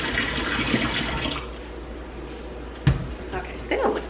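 Running water gushes loudly as used items are washed off under it, then the flow cuts off, followed by a few clunks and splashes, with a voice nearby.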